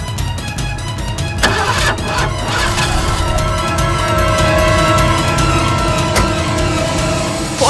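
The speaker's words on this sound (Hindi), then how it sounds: "लेकिन मेरी गाड़ी स्टार्ट नहीं हो रही थी।" A car engine cranks repeatedly without catching, the starter's steady grinding whir running on for several seconds, loud and close, with no voices.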